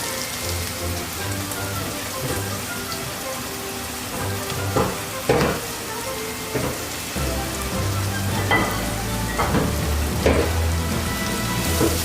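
Garlic and small shallots fry in hot oil for a Kerala-style squid roast, producing a continuous close sizzle and crackle with scattered sharper pops and stirring clatter.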